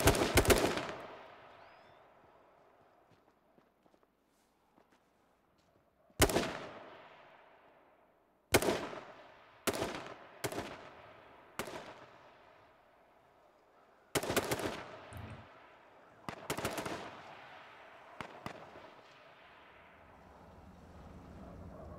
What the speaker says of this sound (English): Probably hearing the shots.